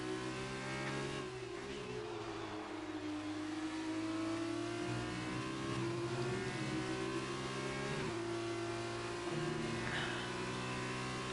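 F2 race car engines in a racing video game at Belgium, a steady high-pitched engine whine revving up and down through gear changes, loud and continuous with no talk.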